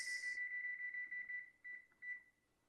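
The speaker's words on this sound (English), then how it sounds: "I gotta set this timer for 15 minutes" A kitchen timer being set for 15 minutes while cooking a holiday meal, giving a steady electronic beep tone that holds for over a second, then a few short chirps, close and clear with no talking.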